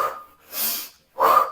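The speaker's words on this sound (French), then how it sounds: "Inspire, inspire, expire, expire." Rhythmic breathing by one person, a soft inhale and a longer exhale followed by a stronger, sharper breath, three close and clear airy pulses with short gaps and no talk.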